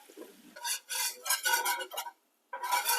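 Flour being stirred into melted salted butter in a pot, heard as close, loud bursts of scraping and rasping from the spoon, repeated several times with one brief pause.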